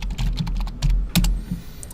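A computer keyboard clatters with quick, irregular close-up keystrokes and a few sharper key taps over a low background hum.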